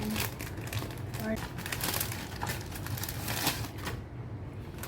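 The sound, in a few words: opening a Zalora package, crinkling packaging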